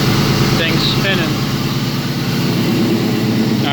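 Engine of a 1999 Ford Mustang GT with a newly replaced intake manifold, idling loud and steady with a constant low rumble throughout, while people talk over it.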